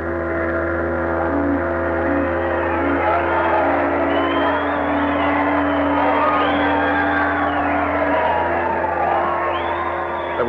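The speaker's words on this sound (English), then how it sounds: "There was shouting and rejoicing." A crowd shouts, whoops and cheers in celebration at the end of a war, a sustained swell of overlapping voices heard as an old-time radio drama effect under a steady musical drone.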